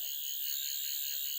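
A Sonic Screwdriver toy gives off a steady, high-pitched electronic warble, a thin buzzing tone with faint wavering that stays constant and fairly quiet throughout.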